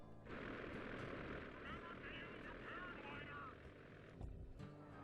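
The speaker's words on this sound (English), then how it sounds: "we get on the plane, we go into the air" Airplane taking off in the video game Sly 2: Band of Thieves, a steady roaring engine drone with a rising whine building through the middle, ending in a low thump, with a voice speaking over it.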